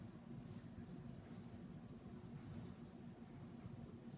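Colored pencil scratching steadily across paper, a continuous close grainy rasp with no pauses, laying down blue color over green.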